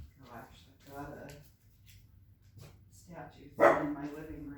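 A pet dog barks indoors in a home living room beside a century-old statue, a few sharp loud barks near the end, with people talking throughout.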